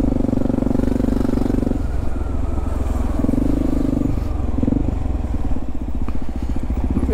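A motorcycle being ridden, its engine droning loud and close with a steady rumble, pitch shifting slightly as the throttle changes, accompanied by constant wind and road noise.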